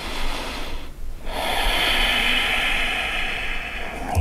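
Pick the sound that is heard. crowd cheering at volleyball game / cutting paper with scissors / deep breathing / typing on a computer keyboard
deep breathing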